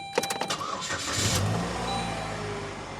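A car engine cranks in a quick burst of several starter pulses, then catches and settles into a steady idle, heard up close with no talking.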